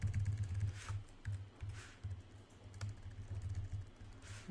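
Someone types on a computer keyboard up close, with steady irregular key clicks in quick bursts over a low engine-like rumble.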